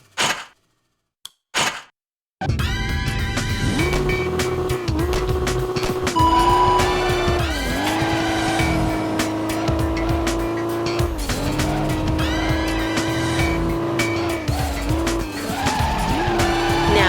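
A drifting car in the Professional Drift: D1 Grand Prix video game on PS2 howls with a loud sustained engine and tire squeal, following two brief clicks and near silence, the screech rising and dipping steadily through long slides.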